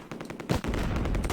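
MG-42 machine gun fire in the World War II video game Close Combat, a sudden loud burst of rapid gunfire that rattles continuously after a quieter lead-in.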